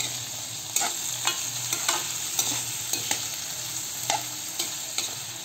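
Onion and garlic frying in oil while being stirred, with a steady sizzle underneath and regular sharp scrapes and taps of a utensil against the pan, close and clear with no talking.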